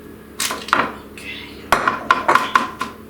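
A spatula scrapes melted marshmallow Peeps out of a metal pan for Easter Peep brownies: a series of close, irregular scrapes and light metallic clinks, with a few quicker taps toward the end.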